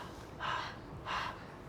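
A voice imitates the panting of a tired girl, two breathy, airy exhalations spaced about half a second apart, close and soft, with nothing else around them.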